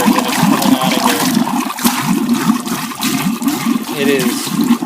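Water pours steadily out of a container in a continuous rushing, gurgling stream, loud and close, with faint voices mixed in.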